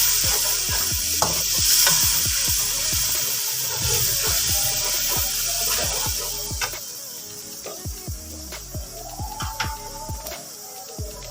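Chopped green chillies, red chilli, ground garam masala and salt tipped into a pot of sizzling oil for yakhni pulao, a steady loud frying hiss with stirring clatter and scraping, fading to sparser spoon knocks near the end.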